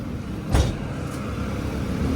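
Engine drone of a motor tricycle ride in the Philippines, a steady close rumble with a single brief thump, no talking.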